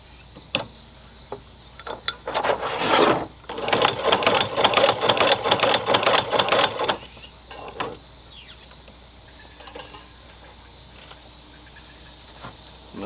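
A sewing machine stitches back and forth on a Coleman oven koozie, giving a rapid mechanical chatter in two bursts, the longer one lasting several seconds. Isolated clicks and clacks fall between and after them.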